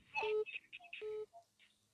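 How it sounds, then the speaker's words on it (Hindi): Electronic telephone tones ring out on a live Hindi TV call-in show about parents burdened by school fees: two long steady beeps with short blips between them, clear and close, with no talk over them. "और एक फोन और आ रहा है"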